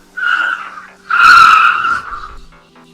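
Racing cars with tires skidding, two long squealing screeches, the second louder and sustained for about a second, close and sharp with a fading tail and no talk.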